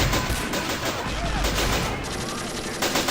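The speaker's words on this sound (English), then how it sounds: "The only people currently opening fire are the tanks." Tank cannons and small-arms fire crack through a forest battle in the World War II strategy game Men of War: Assault Squad 2, a steady barrage of loud overlapping shots with no pauses.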